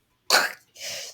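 A raspy cough sound effect for a dark Minecraft story: a harsh, close cough burst followed by a second, breathier, rougher exhalation.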